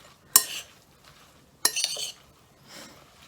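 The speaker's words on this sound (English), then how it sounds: "I'm going to give them a quick stir" A utensil stirs grated garden roots in a mixing bowl, two sharp scraping clinks followed by softer rustling movement, close and fairly quiet.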